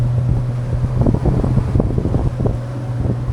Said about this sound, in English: The wind's picked up a tad